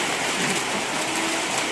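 Steady rain pours down outdoors in Indonesia, a dense, even hiss that stays constant and fairly loud, with no voices over it.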